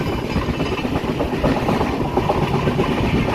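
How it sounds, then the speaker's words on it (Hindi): The Howrah–Barmer Express (12323) runs at speed past Shrirampur station, recorded from on board with a loud, continuous rumble and dense rhythmic clatter of wheels over the rails, with no talking. "श्रीरामपुर को पार करती हुई हावड़ा बाड़मेर एक्सप्रेस अपने रफ्तार पे डटी हुई है"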